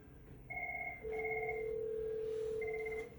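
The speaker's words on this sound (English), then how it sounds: "we notice both phones are ringing" Two office desk phones, connected across a LAN and an Expressway link, ring together with clear electronic tones in repeating bursts, one sustained note overlapping the other, fairly close and with no talk.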